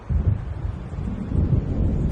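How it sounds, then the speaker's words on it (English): Low, rolling thunder of a storm building over dark water in the Alan Wake video game, a continuous deep rumble with gusty wind and faint rain swelling and easing throughout, no voices. "It seems there's a storm coming."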